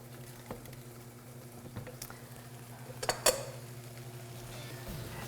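Lemon garlic chicken scallopini cooks down in a pan with a quiet, steady bubbling simmer and soft sizzle, broken by a few faint clinks of utensils against the pan.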